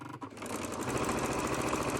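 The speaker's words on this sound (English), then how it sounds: "And you just run them through the machine." A sewing machine runs patchwork squares through its needle, starting after a short pause and then buzzing in a fast, steady mechanical rattle, close and fairly loud.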